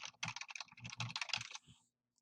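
Quick bursts of keystrokes on a computer keyboard, a run of rapid close clicks lasting a second and a half before stopping, with no talking.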